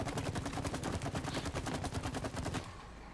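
A shooting range in a video game fires rapid, evenly spaced automatic gunshots in one loud sustained burst that cuts off abruptly, leaving a low hum.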